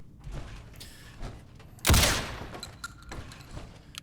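A modded firearm with heavy recoil fires in Fallout 4, with one loud booming shot standing out among scattered lighter shots and mechanical clicks, close and punchy.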